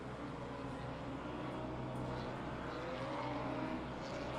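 A Ferrari GTE race car in a racing sim video game, its engine a faint, steady, continuous drone with no clear gear changes or pass-bys.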